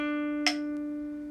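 A guitar note played with the third finger on the seventh fret of the G string rings out as a steady, sustained tone, with a single brief pick scrape partway through.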